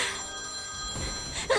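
A telephone bell rings in a dramatic household scene, its steady tone carrying clearly for a moment before a brief sharp sound cuts in near the end; no voices are heard.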